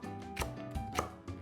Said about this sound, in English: And we're just going to finely slice.